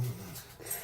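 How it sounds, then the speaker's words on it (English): A dog whimpering, a short, breathy whine under a noisy background, close and brief. "my dog is messing around right now"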